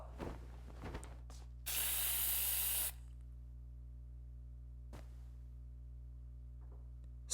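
Sleeping gas sprays from a canister in AI: The Somnium Files, one loud, close hiss of about a second over a low steady hum, with a few soft clicks before and after.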